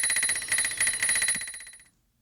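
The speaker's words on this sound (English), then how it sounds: "load up the second sample, which is the bell" A sampled bicycle bell in a granular synthesis patch, a rapid metallic ringing trill that sounds alone for about two seconds and then fades out to silence.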